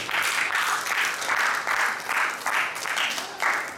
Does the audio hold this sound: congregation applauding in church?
yes